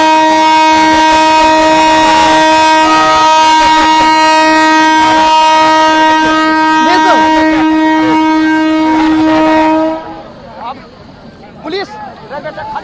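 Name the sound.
train moving at a railway station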